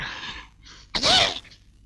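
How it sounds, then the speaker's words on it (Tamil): A single sharp, loud sneeze from a scene in a 1992 Tamil comedy film, preceded by two quick breathy intakes and trailing off into silence. "யார் தும்முனது?"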